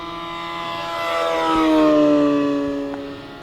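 A giant RC airplane's motor runs at full throttle in a diving pass, a loud sustained whining drone whose pitch sweeps and drops as the aircraft rushes past close by, swelling in the middle then easing off.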